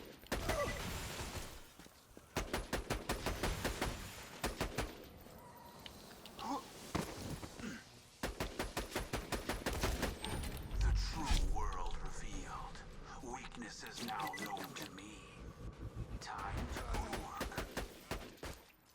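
Gunfire in Borderlands 2 comes in repeated rapid bursts of close, loud rattling shots, with short gaps and mixed game noise between them.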